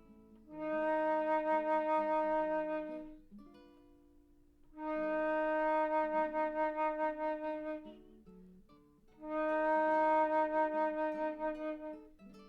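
A flute sustains a low E flat three times, each a few seconds long with a gentle pulsing vibrato, separated by short pauses, played solo.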